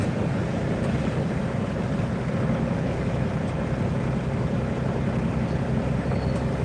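Semi truck diesel engine rumbling steadily after the jake brake is released, a loud continuous low drone heard close and unbroken, with no talking.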